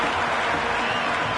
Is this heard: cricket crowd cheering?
yes